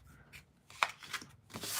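Cards shuffled from a deck, a few quick riffling and sliding bursts close by, soft scrapes separated by brief pauses and ending in a brisker rush.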